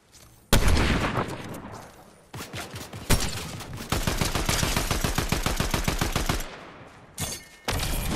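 Shotgun fire in a Fortnite Zero Build fight from Chapter 5, Season 2: a loud sudden blast, then several sharp shots, a long rapid rattling volley of repeated bangs, and a few final reports.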